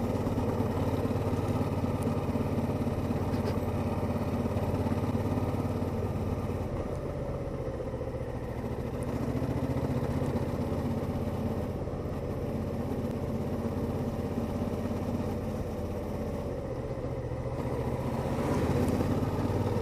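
Suzuki V-Strom 650 motorcycle engine running steadily while riding up Honister Pass in the English Lakes, a close, sustained mid-pitched drone with gentle rises and dips in revs and wind rush.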